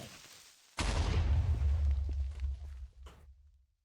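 An explosion in Minecraft with the ATM9 modpack bursts with a sudden sharp onset, then a deep, loud boom rumbles for about two seconds before fading out.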